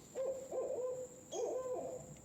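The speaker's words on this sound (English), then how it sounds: "see, that's an owl" An owl hoots outdoors near a creek, two short bursts of soft, hollow calls separated by a pause, faint and set against a steady high insect-like whine.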